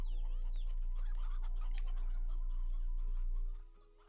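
Chickens in the video game Slime Rancher 2 cluck in a busy, overlapping chatter over steady game tones, continuing for several seconds before fading out.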